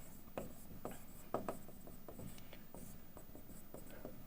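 Chalk or marker strokes on a classroom board as numbers are written, a run of short scratchy taps and rubs at a steady close level over a low room hum.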